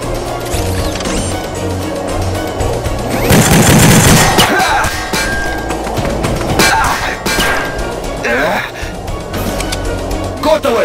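Rapid gunfire bursts in a Stikbot stop-motion animation, loud and dense with crashing impacts, heaviest in a sustained volley near the start then continuing in scattered bursts, with voices shouting over it.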